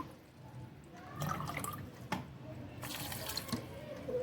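Water is poured from a large mug into a cooking pot for daal, a near, splashing gush that swells and breaks off in bursts, with a short pause between pours.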